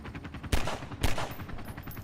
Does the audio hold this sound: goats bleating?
no